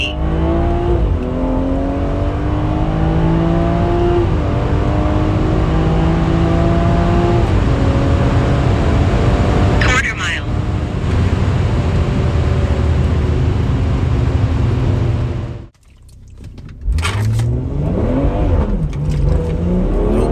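A tuned 454whp F30 BMW 340i with MHD tune accelerates hard at full throttle, engine note climbing steadily through several manual upshifts with brief dips between gears, loud and close, ending in a sharp pause before revving again.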